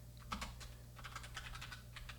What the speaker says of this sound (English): I'm like typing normal in front of people.